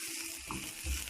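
Onions fry in a hot pan, giving a steady crackling sizzle with a few low clunks near the end.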